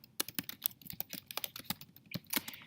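Quick, uneven clatter of keys on a computer keyboard while a social media post is typed, close and fairly crisp, with short pauses between bursts of keystrokes.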